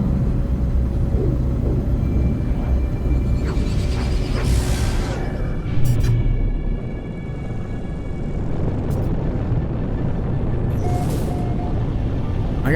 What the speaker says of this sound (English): I got lightning storms